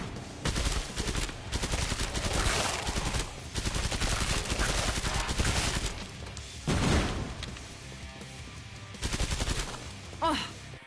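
Loud bursts of automatic gunfire in the Killing Floor 2 video game, dense volleys broken by brief pauses and ending in a few separate shots, with no talking heard.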